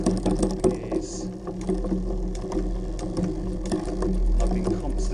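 A Shimano Deore M6000 Shadow+ medium-cage rear derailleur on a Calibre Bossnut V2 mountain bike shifts back up through the gears, giving a run of close mechanical ticks and clicks over a whirring chain drive.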